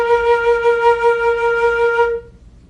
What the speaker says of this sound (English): An A sharp would sound like this.